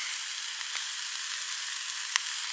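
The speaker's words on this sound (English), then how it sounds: "I love cooking just on a fire like that." Food cooks in a pot over a small open fire on a coastal wild camp, giving a soft continuous sizzling hiss with a few faint crackles and one sharper pop near the end.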